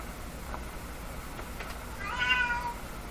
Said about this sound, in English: Did somebody just call my cat in here?